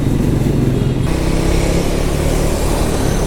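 A KTM motorcycle rides past on a Sunday outing near Poondi Dam, its steady engine drone loud and continuous against road noise, with no voices.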